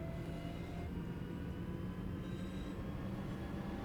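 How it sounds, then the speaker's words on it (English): Trains rumbling past in Train Sim World 5 on the Birmingham Cross City line near Erdington, a steady low rail rumble with faint wheel and carriage noise throughout, no talk. "There's 2 trains that are going past me."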